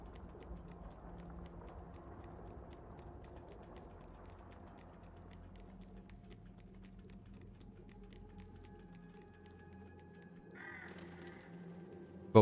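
Crows caw in the video game Little Nightmares 3 as they go after a baby doll, with repeated caws over a low rumbling game ambience and a brighter burst near the end, no talk.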